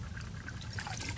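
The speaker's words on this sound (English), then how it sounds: "Actually add a bit more water for my oatmeal" Water pours steadily for oatmeal at a snowy mountain campsite on a solo overnight backpacking trip, a close, continuous trickling splash with no pauses.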